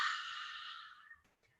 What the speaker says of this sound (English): we're going to breathe out through the mouth, but like we're fogging up a mirror, like a dragon breathing smoke